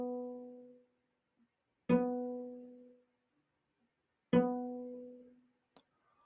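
Three well-spaced notes of B on a cello, played with first finger on the A string, each sounding then fading into silence, close and quiet with no voices.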